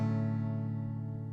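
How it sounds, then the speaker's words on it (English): A single strummed chord on an acoustic guitar with a capo on the second fret, played on the first three strings, rings out clearly and sustains alone, fading slowly. "this is what it sounds like. This is the first chord."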